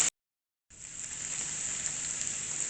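Pork loin and chopped piquillo peppers frying together in a pan give a steady, loud, hissing sizzle that starts after a brief silence and holds evenly to the end.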